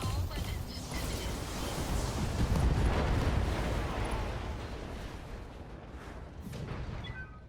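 A BattleTech mech unleashes all its weapons in a burst of rumbling explosions and booms, loud rolling blasts swelling then fading, with faint chirps of other weapon fire near the end.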